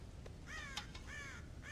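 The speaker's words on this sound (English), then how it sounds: "God damn crows!" Crows cawing in the Western video game Red Dead Redemption, a few harsh, repeated caws near the farm silo over a steady low ambient background, with no talking.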